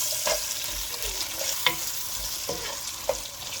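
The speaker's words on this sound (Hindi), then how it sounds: "ये थोड़ा सा फ्राई होंगे आलू" Potatoes frying with spices in about a cup of oil, a steady soft sizzle with a few sharp clicks of stirring over it, no voices.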